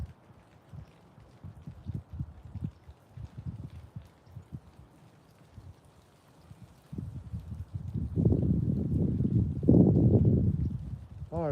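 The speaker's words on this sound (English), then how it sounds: "We don't need the wind blowing." Wind gusting outdoors at a live catfishing spot, a low rumbling buffet on the microphone that stays modest at first and then swells louder and rougher toward the end.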